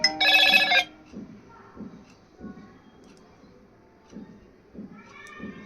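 A OnePlus mobile phone sounds an incoming-call ringtone in a short, bright burst at the start, then quieter tones and faint background noise continue.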